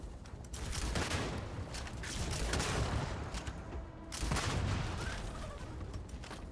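Sustained bursts of automatic gunfire from a weapon in the space game Starfield, dense and loud across the whole stretch, with a brief dip before the shooting surges again.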